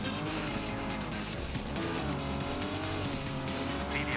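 Tires skid and squeal continuously over a revving rally car engine in the Old School Rally racing game, loud and steady throughout.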